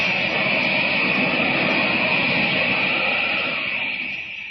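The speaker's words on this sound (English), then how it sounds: "Superman leaps into the air, hovers a moment, and takes off in a series of widening circles" A loud, sustained roaring whoosh of wind-like rushing air, steady and close, easing slightly toward the end, standing in for Superman leaping up and flying off in a radio drama, with no voices.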